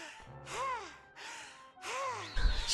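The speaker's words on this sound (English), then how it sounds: "why are you breathing like that? I get it, it was a lot of stairs" In the video game Ni no Kuni II: Revenant Kingdom, a character pants heavily after climbing stairs. Two long, drawn-out breaths rise and fall, close and clear, with a slight voiced sigh in each.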